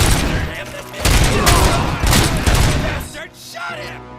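Dense, loud gunfire from the video game RoboCop: Rogue City, a sustained barrage of overlapping shots with booming impacts that thins out near the end, with shouted voices mixed in.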